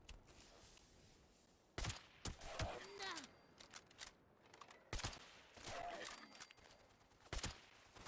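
Sniper rifle shots in the Fallout video game ring out as a handful of sharp, isolated cracks spaced irregularly over quiet game ambience, with faint vocal sounds in between.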